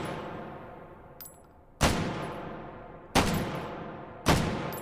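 Three loud, sharp shots from a MAS 49/56 semi-automatic battle rifle in the VR game H3VR, spaced about a second apart, each followed by a short decaying tail, with a faint metallic click beforehand.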